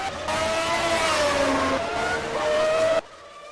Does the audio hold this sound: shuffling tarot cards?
no